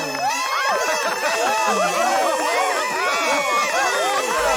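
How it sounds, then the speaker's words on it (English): A game household of Sims siblings and their mother cheer around a birthday cake, a dense, loud, continuous wash of simulated chattering and whooping voices with no pauses. "It's very noisy with all these siblings there and their mother all cheering her on"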